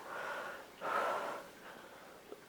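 Heavy breathing through a dumbbell chest and triceps workout: a long breathy exhale, then a stronger second breath with a snort-like edge, close to the mic, with no talk.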